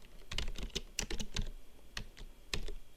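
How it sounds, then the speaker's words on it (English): Fingers tap on a computer keyboard in quick irregular bursts, a near, fairly soft clatter of keystrokes with brief pauses between runs. "Type something in here just for display purposes."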